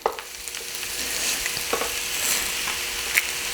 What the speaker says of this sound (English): 4 minutes or so you can get a nice crisp sear on that one side before we flip it over